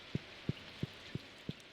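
Stardew Valley toxic rain shows up as five soft, evenly spaced low thumps over a faint hiss, each a single drop-like tap with quiet gaps between.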